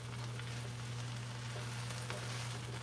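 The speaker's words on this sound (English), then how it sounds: "Stir in the mushrooms." Mushrooms fry with kale and broccoli as they are stirred in, giving a soft, even sizzling hiss over a steady low hum, quiet and continuous for a few seconds.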